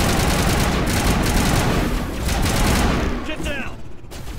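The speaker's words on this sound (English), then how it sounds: "Man, I really love this assault rifle." Rapid, sustained assault rifle fire in the video game Mass Effect, a loud continuous burst of shots that tapers off near the end.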